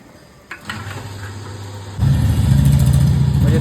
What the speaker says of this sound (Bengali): ওই যে তেল ভরা স্টার্ট হয়ে গেছে